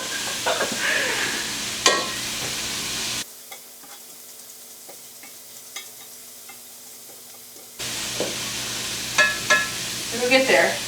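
Food for black-eyed pea soup sautés and sizzles in a pot in a home kitchen, a steady hiss with occasional stirring clinks, dropping quieter in the middle before the sizzle returns.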